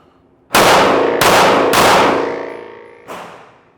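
Three loud, close pistol shots from a Staccato HD 2011 in quick succession, then a fourth after a short pause, each ringing out with a long decaying echo.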